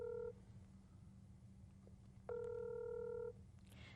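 An outgoing telephone call's ringback tone: a clipped beep followed by one longer steady tone a couple of seconds later, faint over a low background hum.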